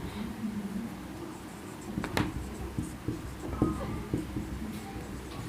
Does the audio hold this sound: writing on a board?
yes